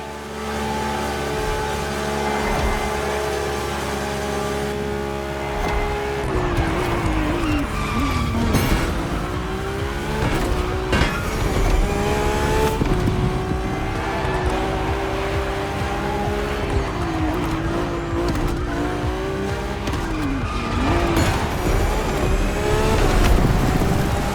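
A Ferrari F80 supercar driven hard in the racing game The Crew Motorfest, its engine note rising and falling through gear changes alongside squealing tires, sustained and loud with no voices.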